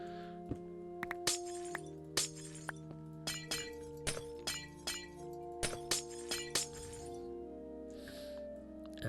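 Glass blocks shattering one after another in Minecraft, a steady series of crisp breaking clinks, with background music tones underneath.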